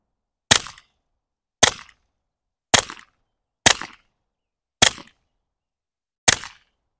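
Six suppressed pistol shots from handguns such as an M&P 5.7, PSA Rock, FN 502 and Walther fitted with a Dead Air Mask can, sharp and evenly spaced at roughly one-second intervals, each a clean crack with a short tail and silence between, no talk.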